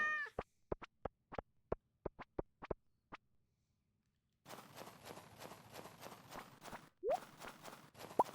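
A cat in Stardew Valley, heard as a string of quick, regular taps followed by a burst of dense scratchy rustling broken by two short rising meow-like chirps, moderately faint.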